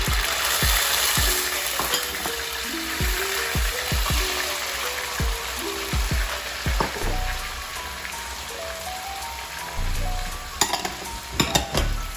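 Seasoning sizzles and crackles steadily in hot oil in a pan for Jamaican ackee and saltfish, with occasional stirring scrapes and clinks over the continuous frying hiss.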